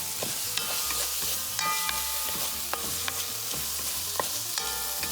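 Spoon stirring Spanish creamy rice (arroz meloso) in a pan, a steady scraping and gentle bubbling sizzle with soft clicks of the utensil against the pan, close and continuous with no talking.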